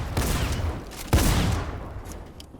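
Gunfire erupts in a Fortnite-style video game fight, a burst of rapid, loud shots with one sharp heavy blast in the middle, then fading echoes and scattered distant pops.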